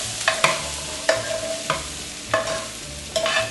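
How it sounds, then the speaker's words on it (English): Roasted peppers and onions stirred in olive oil with garlic powder, a utensil scraping the pan in a handful of separate strokes over a soft steady sizzle, close and moderately loud, no talking. "roasted peppers and onions with the garlic powder in there. Stir it all up."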